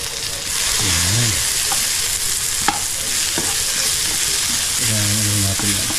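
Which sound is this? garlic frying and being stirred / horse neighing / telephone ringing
garlic frying and being stirred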